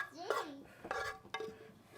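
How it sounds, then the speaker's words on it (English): Metal pans and dishes clink and clatter in a home kitchen during family meal prep of bulgogi bibimbap, a few close, quiet knocks and scrapes with faint voices in the background. "Grab one of your extra pans here."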